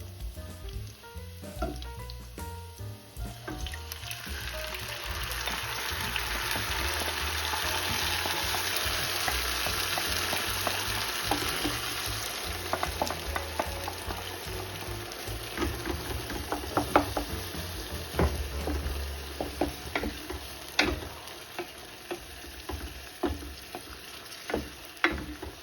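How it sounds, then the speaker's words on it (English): Pizza sauce hits a hot pan and sizzles loudly, a dense frying hiss that swells then settles into bubbling crackles and occasional stirring clicks, close with no talking. "now it's getting almost ready to put the sauce in"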